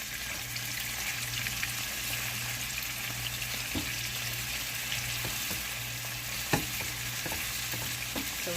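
Chicken pieces and mushrooms fry in a pan with a steady, even sizzle, broken now and then by soft clicks and taps as the food is nudged or turned, and no voices.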